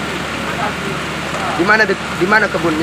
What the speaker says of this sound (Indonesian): Hujan-hujanan